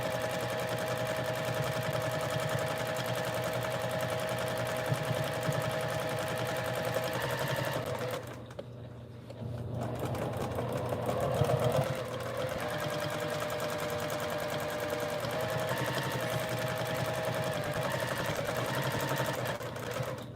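A sewing machine quilting a wall hanging runs in a fast, continuous mechanical rattle up close, pausing briefly near the middle before resuming at the same steady pace.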